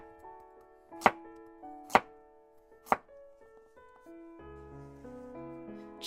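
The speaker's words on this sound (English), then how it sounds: "Chopping things as usual." Three sharp knife chops on a cutting board land about a second apart while vegetables are cut for corn chowder, set against soft background music with no speech.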